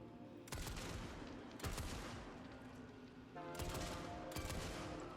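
Assault rifle with a small zoom scope firing in a video game, delivered as several distinct bursts of sharp, loud gunshots separated by short pauses.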